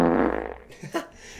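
A short, loud fart sound effect, a single buzzy blast that fades out, then a brief faint squeak.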